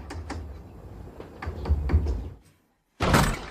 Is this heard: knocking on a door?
yes